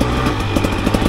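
A 2024 KTM 300 XC-W dirt bike engine runs rough at part throttle, below a quarter open, with an uneven, burbling two-stroke drone that sputters irregularly and stays close and fairly loud throughout.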